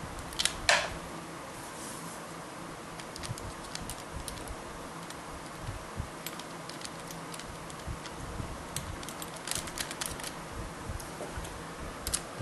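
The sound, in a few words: remounting carburetor retention nuts on Jiffy PRO4 mounting studs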